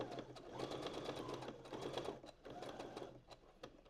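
A sewing machine runs steadily as it stitches a line, with a fast mechanical whir and needle rhythm that pauses briefly and then continues, heard fairly faint.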